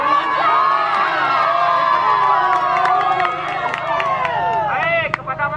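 A crowd of people shouts and cheers during a navy soldiers' readiness and riot-control simulation in Lhokseumawe, a loud continuous wall of overlapping voices and whoops with a few sharper cries near the end.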